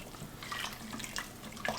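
Pork sinigang with tamarind stirred in an Instant Pot: continuous close wet sloshing and liquid swirling, with a few brighter splashy scrapes, alone without talk.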